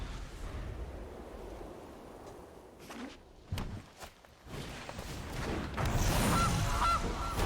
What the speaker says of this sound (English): Love the goose.